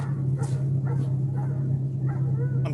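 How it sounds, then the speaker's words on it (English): Several stressed dogs whimper and yip in short, overlapping bursts over a steady low hum, with brief higher yelps scattered across the stretch and no talk. "Just listen to how stressed those dogs are"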